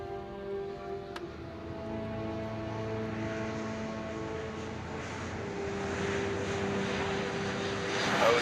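A steady, droning airplane engine hums through a cabin or overhead, a continuous tonal roar that swells slightly louder toward the end, with no speech.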